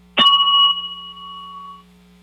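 A single bell or gong struck once as a radio sound effect, a sharp attack followed by a clear, sustained ringing tone that fades over about two seconds, heard alone.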